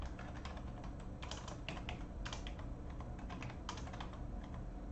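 Steady computer keyboard typing in a quiet room, a continuous run of fast, close key clicks with short bursts and brief pauses, entering commands for data work in Python.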